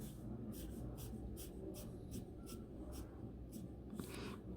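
A pen drawn across a wooden tabletop, giving a series of rhythmic scratchy strokes, roughly a dozen evenly spaced swipes over a steady low background hum.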